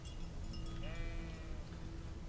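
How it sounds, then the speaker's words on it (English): A sheep bleats faintly in Kingdom Come: Deliverance, a short wavering call over a low rumbling background. "here's the sheep. Look at that."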